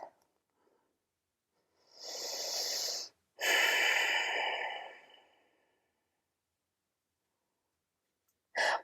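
Deep, slow breathing during a hot yoga class: a long, airy inhale through the nose, a brief pause, then a longer exhale, close and alone, followed by the start of another breath.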